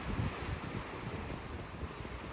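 Blustery wind buffets the microphone at a rocky cape while waves wash below, a steady broadband roar with gusty low thumps and no voices.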